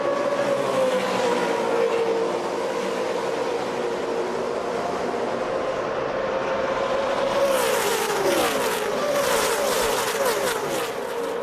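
A pack of NASCAR Camping World Truck Series trucks races at Talladega, a continuous loud engine roar rising and shifting in pitch as the trucks pass, with dense rumbling crowd and track noise throughout.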